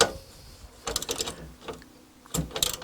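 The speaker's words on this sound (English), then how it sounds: "take the 4 carriage bolts loose" Metallic ratcheting and clicking in short bursts as carriage bolts are loosened on a Red Baron arcade joystick, close and fairly quiet.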